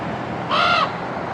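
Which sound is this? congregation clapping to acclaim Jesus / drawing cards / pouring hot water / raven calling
raven calling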